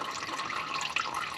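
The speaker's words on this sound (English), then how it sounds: "So I'll be back after this has stopped dripping" Gear oil from an R33 GT-R transmission drains in a steady trickling stream, faint and continuous, with no voices.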